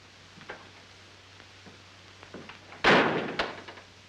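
A door slams shut with one sharp, loud thud, followed a moment later by a softer knock, after faint quiet movement in a calm room.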